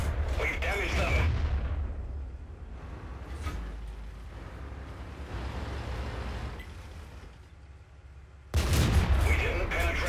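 Tank cannon shots in World of Tanks, with a loud boom at the start and another near the end and rumbling battle noise between them, under a player's commentary.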